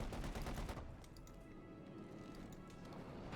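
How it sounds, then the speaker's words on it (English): A Panzer artillery barrage in Company of Heroes 2 fires in a dense burst of rapid booming impacts that quickly fades into scattered cracks and a low rumbling battlefield wash. "Fires a Panzer barrage into the base here."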